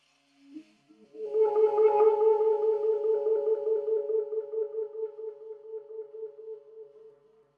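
A soft, low saxophone note, low B flat with all fingers down and low C, starts after a faint key click and swells, then sustains and slowly fades over several seconds.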